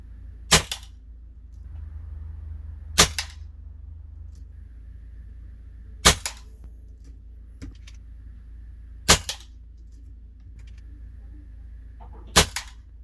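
Five sharp, loud AirMaks Arms air rifle shots fired during accuracy testing, evenly spaced about three seconds apart, each a crisp crack with a quick follow-up impact, against a quiet low hum.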